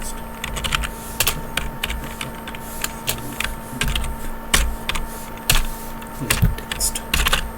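Steady, fairly loud typing on a computer keyboard while code is written, with rapid irregular key clicks and occasional sharper strikes throughout, close up and without speech.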